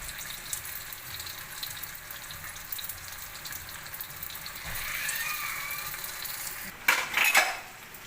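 Lumpia filled with bean sprouts fry in a pan with a steady low sizzle. Near the end comes a louder burst of crackling and clatter as the rolls are stirred or turned.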